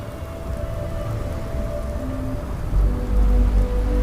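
Steady rain pours over the lightning-powered city of Neon in Starfield, with low rumbling thunder swelling near the end beneath the constant hiss of the downpour.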